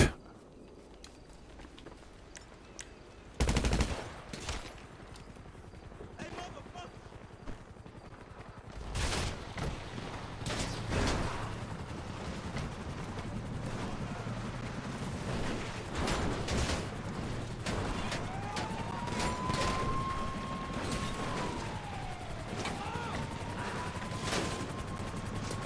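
Gunfire in GTA 5 Online comes as scattered sharp bursts and cracks over a steady mechanical background, with a loud burst early on and a rising, falling whine near the end.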